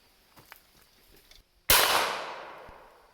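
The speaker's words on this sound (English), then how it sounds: "one last shot on the old Amsler Milbank" A single sharp gunshot from an antique Milbank-Amsler Swiss .41 rimfire trapdoor rifle cracks loud and close after a quiet pause, its report decaying over more than a second into an outdoor range.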